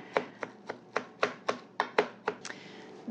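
Knife chopping shrimp and ground pork together on a cutting board, about a dozen crisp, evenly spaced chops in a steady rhythm, close and fairly loud with no talking.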